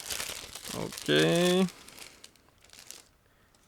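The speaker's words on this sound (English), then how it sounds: "it's a resealable plastic bag, so just give me a second to open it" A resealable plastic zip bag holding a 1/72 scale model aircraft kit is pulled open, giving a short burst of crinkling and tearing plastic between bits of nearby talk.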